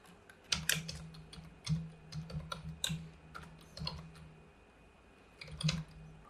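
Code being typed on a computer keyboard, close and fairly quiet: irregular bursts of crisp key clicks with short pauses, a few heavier keystrokes standing out, no talking.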